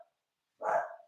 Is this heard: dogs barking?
yes